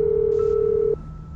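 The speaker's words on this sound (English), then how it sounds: "I'm calling the cops." A telephone call to the police placed in a GTA 5 horror scene: a loud steady dial tone holds for about a second with a brief higher tone over it, then cuts off, leaving a faint hum.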